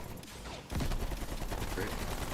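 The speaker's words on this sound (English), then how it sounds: "They put a freaking sentry gun in the thing" Automated sentry turret in a Call of Duty match firing a steady burst of gunfire, loud and close, starting abruptly and continuing without pause, with voices talking over it.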